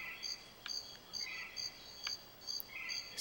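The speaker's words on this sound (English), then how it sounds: "it's got a nice cricket sound effect" Cricket chirping from the GoldenEye 007 video game soundscape, a steady series of short, shrill chirps repeating about every half second, faint and sitting over a quiet background with no talking.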